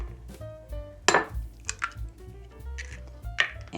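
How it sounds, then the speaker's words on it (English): Two eggs are cracked in a home kitchen for mushroom burgers, with a few sharp taps and clinks against a bowl, close and clear amid soft handling noises. "So you're gonna need 2 eggs. So crack them up."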